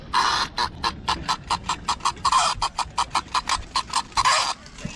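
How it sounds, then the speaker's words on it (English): A toy hen clucks in rapid, rhythmic bursts, close and loud, a nasal squawking pattern that repeats about a dozen times at a flea market stall. "Oh, a clucking hen. Does it cluck?"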